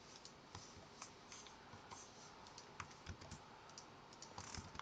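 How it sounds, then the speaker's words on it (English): Rapid typing on a computer keyboard while entering a formula into an Excel spreadsheet, quiet close-up clicks in quick irregular bursts with no talking. "I type the formula of acceleration here"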